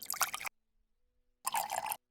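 Water is poured into wood stain to thin it, heard as two short, close bursts of liquid splashing and dribbling into a container, separated by nearly a second of silence.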